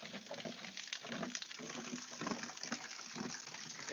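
Water gushes and splashes steadily from a pump pipe about 3.5 metres long, fed through a 1-inch inlet with a 3/4-inch outlet. The flow is a continuous broadband patter at moderate distance with no voices.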